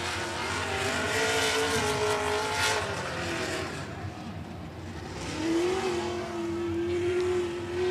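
Race cars at 105 Speedway roar around the track at a regular race program, engines rising and falling as they pass at moderate distance, overlapping in a continuous, fluctuating drone.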